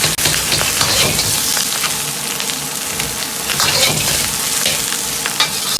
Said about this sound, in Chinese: 炒至鹅肉表面发黄，接着下入生葱，煸炒出香味